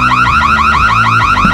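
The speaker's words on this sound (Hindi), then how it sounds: "हमने अलार्म बजा दिया था" A loud car alarm blares close by, cycling through a rapid repeating wail that rises and falls in even pulses throughout, with no voices.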